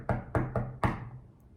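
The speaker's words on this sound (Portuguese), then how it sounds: "Chegando lá, bateu a porta." Four firm knocks land on a door in quick succession, close and loud, with the last one ringing out into a short fading resonance.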